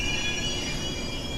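A train rumbling close by, a dense steady roar of wheels on rails with thin high squealing tones running through it, loud and unbroken for the whole stretch.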